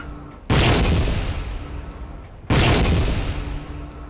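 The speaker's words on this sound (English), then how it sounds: "It is time to shell the city." Artillery shells pound a city in the video game Battlefield Yugoslavia, with two loud, booming blasts two seconds apart, each rolling out into a long rumbling tail.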